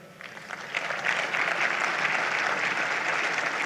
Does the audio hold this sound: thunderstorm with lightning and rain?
no